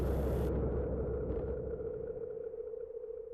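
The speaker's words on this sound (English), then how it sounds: "Yeah, that's the third storm." A storm rumbles in the video game Saturnus, a deep sustained low roar that follows a brief hissy onset and slowly eases off while staying steady and heavy throughout.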